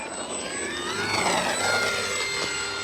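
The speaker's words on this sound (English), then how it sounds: "Look at that beautiful controlled takeoff." A Horizon Hobby P-51D June Nite V2 RC model plane, 1.2 m span on a 4S battery, takes off with a loud, steady, whining electric motor and propeller drone that rises and shifts in pitch.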